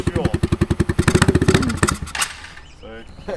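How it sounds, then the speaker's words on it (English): A Harley motorcycle engine in need of a carb clean and fresh fuel chugs in an even, loud, close rhythm, then slows and dies away, with a voice talking over it. "Is this a Harley? It's a Harley."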